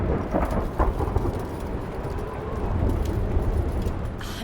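A thunderstorm in the video game Return to Grace rumbles with low rolling thunder over steady rain, the storm sound continuous and moderately loud with occasional swells.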